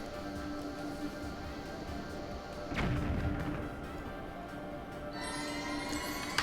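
In The Legend of Zelda: The Wind Waker Randomizer, a single heavy bomb explosion booms partway through. A low rumble and game background sounds surround it.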